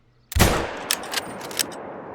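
A .338 rifle fires a single sharp, loud shot in a video game, followed by a decaying echo and a few faint metallic clicks as the action cycles.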